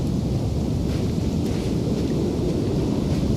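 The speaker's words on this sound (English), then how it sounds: "you're in the middle of a sandstorm, love." Storm in The Invincible video game, here a sandstorm: a steady, loud roar of wind-driven noise, dense and unbroken throughout with no pauses or distinct events, heard alone without voices.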